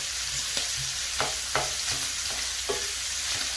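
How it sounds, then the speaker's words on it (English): Sausage and spinach pasta sizzles steadily in a skillet, with a utensil scraping and stirring through it every second or so in a loud, continuous fry with no talk. "I'm cooking on a skillet"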